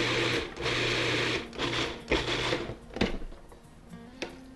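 A food processor pulses chimichurri sauce in short bursts, a whirring grind starting and stopping several times close by with clatter between pulses.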